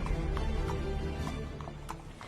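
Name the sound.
horse hooves clip-clopping as the rider stops his horse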